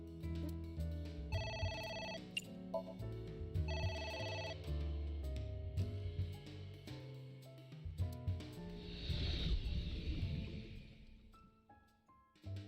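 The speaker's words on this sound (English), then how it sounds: "now we ignore the phone again. It's ringing again." A telephone rings in two short repeated bursts of bright electronic tone early on, quiet and mixed with busy background music and noise.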